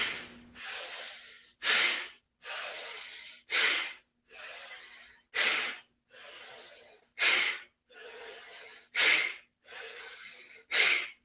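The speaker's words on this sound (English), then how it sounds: "But bellows is when you inhale and then a strong," Bellows breathing: a long nasal inhale followed by a sharp, forceful exhale, repeated about a dozen times in an even rhythm, close and alone.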